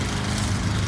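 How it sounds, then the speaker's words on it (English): Lawnmower engine running close by, a steady continuous drone with strong low rumble held at even loudness throughout, no talking. "let me get past this lawnmower before I go in"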